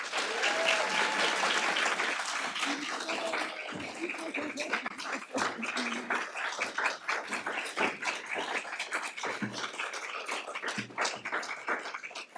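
Sustained audience applause fills the room at a housing justice summit as Congresswoman Cori Bush is welcomed to the stage, loud and dense at first, then thinning into scattered claps with a few cheers.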